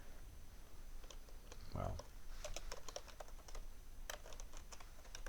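Quick bursts of clicking on a computer keyboard as a folder name is typed, close and crisp, with a brief spoken word early on and a low background hum.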